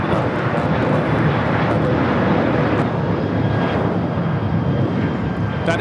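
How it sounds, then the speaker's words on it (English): An Alaska Airlines Boeing 737-900ER roars steadily on takeoff from LAX, a loud, broad jet rumble sustained throughout with no gaps. "That is Alaska 332 taking off to Los Cabos on the 737-900ER."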